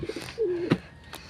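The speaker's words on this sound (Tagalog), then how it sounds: "Yung mga kalapatids." A pigeon gives one short, close coo, a low smooth call that dips and then holds, with a few soft clicks and rustles before and after in a quiet coop.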